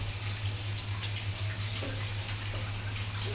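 Tap water runs steadily into a kitchen sink while hands are washed, a continuous hissing splash close by with a low hum underneath, and no talking.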